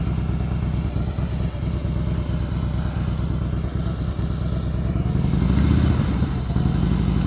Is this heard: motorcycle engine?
yes